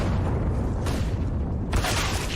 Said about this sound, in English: Waiting for the explosion to mask the steps of the charge.